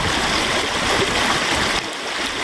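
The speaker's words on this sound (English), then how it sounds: "So there's technically less water rolling through here than yesterday anyway." Water rushing through a dam that collapsed during Hurricane Helene, a steady loud broadband roar of flowing current heard up close without pause, with no talking over it.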